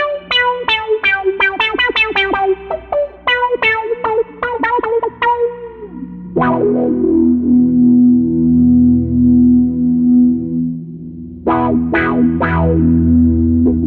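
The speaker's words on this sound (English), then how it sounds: "Filter lead." A BOSS SY-200 guitar synthesizer plays a filter lead patch: a quick run of bright, buzzy synth notes, then a long sustained tone with a sweeping filter, another brief flurry of notes and a held note, loud and close, with no talking.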